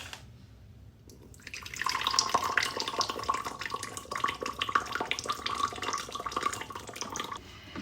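Boiling water poured onto tea in a pot, starting after a brief quiet moment and running as a steady, bubbling splash for several seconds before tapering off.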